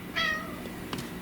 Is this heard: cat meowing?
yes